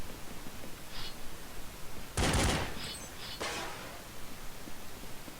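Counter-Strike rifle gunfire from a FAMAS and an M4: a few short, sharp bursts, with one louder, sustained volley in the middle, over a steady hiss and no talking.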